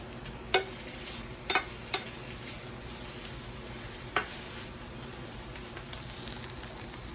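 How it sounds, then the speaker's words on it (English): Eggs frying and burning in a pan, a steady faint sizzle with a few sharp pops and spits scattered through, no talking. "oh, my eggs are burning"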